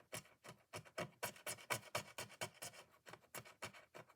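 Rhythmic scraping in papercraft, a quick series of dry rasping strokes repeating steadily at close range with no talk.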